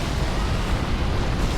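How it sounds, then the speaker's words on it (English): Giant ballista firing explosive shots at a distance in Dark Souls 3, a steady deep rumbling roar with heavy low-end booms and no clearly separated blasts. "Don't worry about the loud explosions going on. That is just a giant ballista in the distance shooting shots at me."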